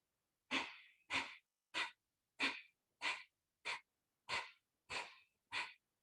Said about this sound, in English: Inhaling.